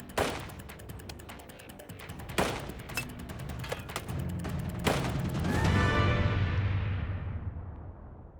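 Rapid rifle fire on a shooting range during a timed run at targets, a series of sharp, close cracks in quick bursts with longer gaps between some shots, echoing away, then a low rumble as the firing stops.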